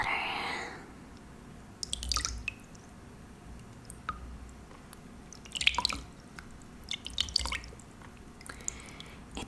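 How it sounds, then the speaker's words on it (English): Warm soapy water in a bowl being handled up close, with scattered drips, small splashes and wet squishing sounds coming in irregular bursts over a quiet background, soft and intimate in tone. "I have a bowl of warm, soapy water."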